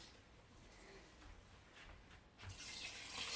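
Water is poured from a can into a pot of chicken stew, a faint, brief splashing gush that starts near the end and grows steadily louder.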